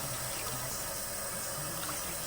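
Steady rush of water pouring from a sink tap while potato greens are rinsed, loud, close and continuous with no talk.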